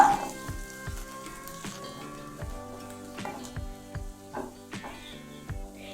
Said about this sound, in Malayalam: ഈ വെളുത്തുള്ളി ഒന്ന് മൂത്ത് വരട്ടെ.